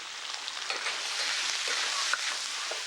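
Steady broadband sizzle of a Sichuan stir-fry in a hot wok in a kitchen, with soft scraping stirs and small spits rising through the continuous crackle, no voices.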